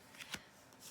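Cards being shuffled by hand, not a riffle, in a couple of quick papery bursts, close and fairly quiet, with no talk over them.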